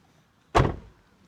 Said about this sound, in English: the sound of a good closing door